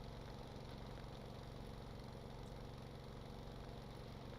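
A model mining mill drills away at a steady pace, a constant close motor drone with a faint rattling texture throughout, no voices over it.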